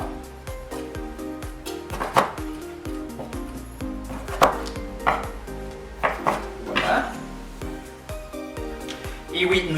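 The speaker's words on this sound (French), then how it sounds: "la lime, on va couper nos limes en petites quartiers" A knife cuts limes into small wedges on a board in a home kitchen, a series of close, uneven chops and knocks with a few clinks, heard under a person talking.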